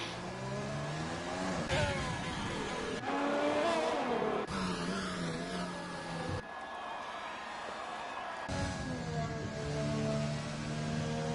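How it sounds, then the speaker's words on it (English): F1 cars in a racing video game run on the Vietnam circuit, their high-pitched engines revving and shifting continuously, rising and falling in pitch as cars pass, with brief tyre squeal and no talk. "the cars come back out on track for another run on fresh soft tyres"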